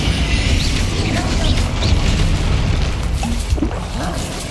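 A Bombarda spell explodes in Hogwarts Legacy gameplay, a loud dense booming blast that rolls on as sustained rumble and debris through the whole moment, with game combat noise around it.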